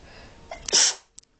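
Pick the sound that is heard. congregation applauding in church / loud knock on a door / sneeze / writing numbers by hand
sneeze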